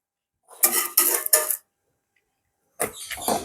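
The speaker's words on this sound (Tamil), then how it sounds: "அப்பத்தை மூடி விடுவோம்" A lid set down over an appam pan while cooking, giving a few close metallic clatters in quick succession, then a pause before more rattling handling of cookware.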